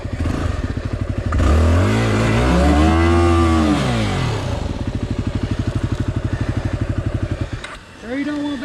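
A dirt bike engine revs and chugs on a muddy trail, with a rising and falling whine in the middle and a steady idling putter before and after, close and fairly loud.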